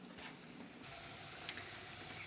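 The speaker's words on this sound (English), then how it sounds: "That is a steady stream of steam." Steam vents from a pressure canner processing sweet corn at ten pounds of pressure, a steady, close hiss that jumps louder partway through and then holds constant.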